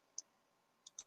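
Computer mouse clicks, one crisp tick followed after a pause by a quick pair, close and faint in a quiet room.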